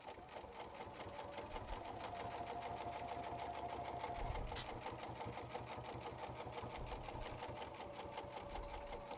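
A sewing machine stitching a purse, running steadily with a fast, even mechanical rhythm throughout, close and continuous.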